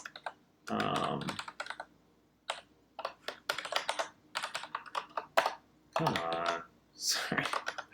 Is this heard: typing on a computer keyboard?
yes